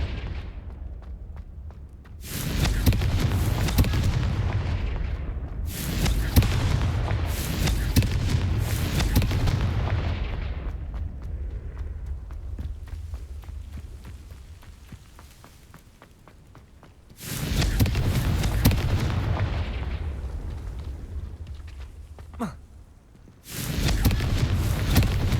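Confringo blasting spells in Hogwarts Legacy burst in heavy booming explosions that smash vases, several loud blasts in separate clusters with rumbling decays and quieter gaps between them.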